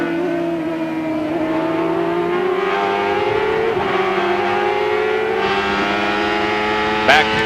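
Mid-1990s CART IndyCar race cars at Elkhart Lake roar along the straight and up the hill, a loud sustained high-pitched engine whine with gradually shifting pitch as cars flash across the line, with commentary over the noise.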